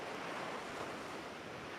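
Surf washes continuously onto a sandy shore, a steady even rush of ocean waves mixed with wind and no talking.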